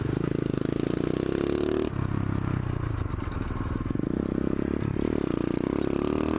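Pit bike engine running steadily and loud up close throughout, with rattling and scraping mechanical clatter and a brief dip in engine note midway as the small motorcycle is ridden.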